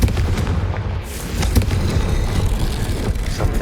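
A Confringo fire spell explodes in Hogwarts Legacy, giving a heavy booming blast followed by rumbling, crackling impacts that keep up loud and close throughout.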